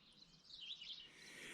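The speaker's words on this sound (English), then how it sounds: "Birds are singing." Faint chirps and trills of birds singing on a farm in the morning, a few high calls drifting over quiet background, distant and soft with no voices.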